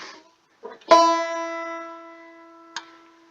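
One plucked banjo note on the first string, second fret, rings bright and close after a brief faint rustle, decaying gradually, with a small click near the end.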